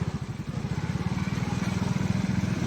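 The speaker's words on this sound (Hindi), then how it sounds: "अभी हम बाइक पे हैं, अभी हम जा रहे हैं।" A motorbike carrying riders along an outdoor road, its engine a steady close, rhythmic low putter with wind noise throughout and no talking.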